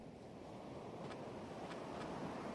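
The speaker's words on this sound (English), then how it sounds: "waves can be really loud" Ocean surf in a hardcore survival video game rolls as a continuous, low, broad rumble of waves with wind-like hiss, steady and moderately loud throughout.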